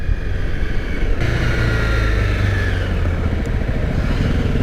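A Honda CRF 250 Rally motorcycle engine drones close and loud while riding, its steady pulsing note lifting slightly as the throttle opens after a second, with some mechanical clatter and no talk.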